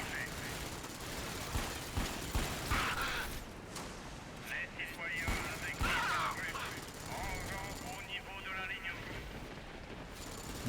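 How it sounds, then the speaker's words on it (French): Machine gun fire from the video game Dark Sector, bursts of gunshots and explosive blasts layered over dense game noise, with a voice talking throughout. "l'autre il est en train de me tirer dessus à la mitrailleuse quoi"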